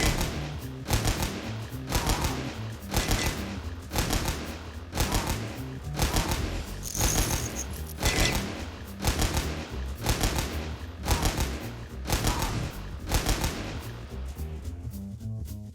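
Rapid, loud bursts of gunfire from the player's weapon in the video game Pecaminosa, fired in an even, repeating rhythm of shots that continues steadily throughout with no talking.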